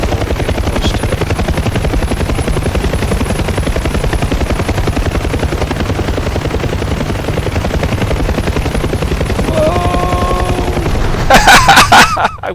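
A UH-1H Huey helicopter in DCS: a loud, steady rotor thump and turbine whine fill the clip, then a sharp crash and explosive bursts erupt near the end.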